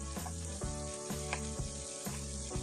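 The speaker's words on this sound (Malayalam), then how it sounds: "ഈ ചെറിയുള്ളി സോഫ്റ്റ് ആയി വരുന്ന വരെ നമുക്ക് വഴറ്റിയെടുക്കാം" Close, steady sizzling of small shallots sautéing in a pan, with soft periodic scraping as they are stirred, continuous and moderately quiet with no voices.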